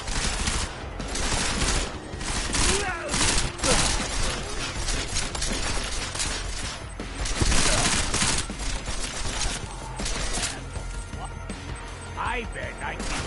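Sustained rapid gunfire in the Deus Ex video game: dense, continuous bursts that crash and rattle loudly throughout, with faint voices mixed underneath.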